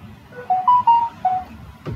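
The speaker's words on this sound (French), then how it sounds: "Oh là là, ce téléphone qui fait du bruit." A telephone rings with a short electronic melody of a few bright tones, fairly loud and close, followed by a brief thump, no voices.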